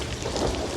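Thunder rumbles low beneath steady falling rain, a dense, continuous storm wash with no voices.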